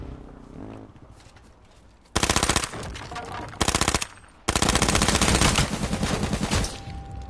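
Automatic gunfire from the online battle game H1Z1, played solo on PS4, comes in loud sustained bursts. One long volley is followed by a short burst and then another extended stretch of rapid shots, with no talk over it.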